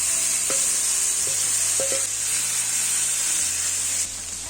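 Premixed green beans for a curry hit hot oil in a pan and fry with a bright, steady sizzle and hiss, loud and close, with a few clinks of stirring before the sizzle eases slightly at the end.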